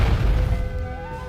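An explosion at the Beirut port as captured in news footage, a loud, heavy boom that rolls away into a fading rumble while a tonal hum carries under it.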